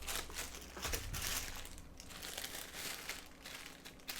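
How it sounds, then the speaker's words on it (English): Red wire being cut, a short crisp snip and crinkle of insulation heard up close, quiet and alone without any talking. "Right, so I've got some red wire here. Just cut a piece of that off."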